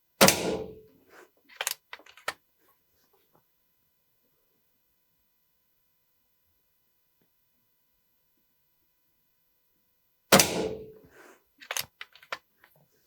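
Air rifle pellet shots, comparing .177 and .22 calibre, give sharp close cracks followed by faint impact clicks. One pair comes early and another after a long silent gap.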